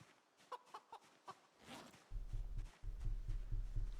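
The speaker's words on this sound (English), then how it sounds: "Why is this chicken just kind of hanging out there?" Short chicken clucks from Project Zomboid, Build 42 multiplayer, come in a few quick bursts early on, followed by a louder steady low rumble.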